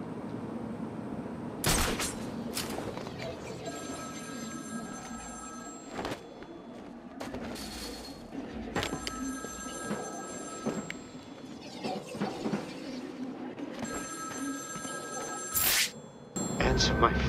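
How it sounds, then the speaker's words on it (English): A telephone rings repeatedly in Batman: Arkham City on Wii U, bursts of bright electronic trilling recurring at regular intervals over game ambience, with a voice speaking between rings. "Answer my phone and answer it quick, Batman."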